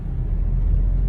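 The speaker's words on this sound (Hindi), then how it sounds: "गाड़ियों की लाइन लगी हुई है लिटरली" Low steady rumble of cars idling and creeping in a long traffic queue on a road in Dehradun, a continuous close engine drone with no distinct horns.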